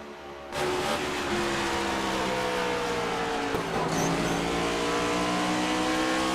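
A race car engine screams at high revs during a Bluegrass Cup Series race at Bristol, a loud sustained whine that bursts in suddenly and holds steady, with pitch sweeping slightly as the car works through the track.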